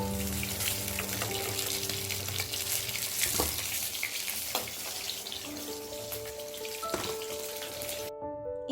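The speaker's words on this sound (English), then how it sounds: "Now fry the other pieces like this." Chicken pieces deep-fry in hot oil with a dense, continuous sizzle and crackle that stays close and loud throughout. Occasional louder pops break through, then the sound cuts off abruptly near the end, with no speech.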